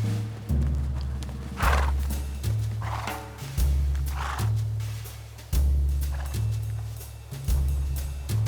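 A horse galloping on a riding course, its hooves striking in a steady repeating clip-clop rhythm with loud thuds at regular intervals, close and clear, with a brief whinny-like sound and no talk.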